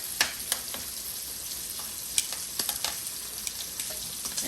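Sausages sizzle and fry steadily in a hot pan, with scattered clicks and scrapes as they are turned over, a continuous close crackle with no talking.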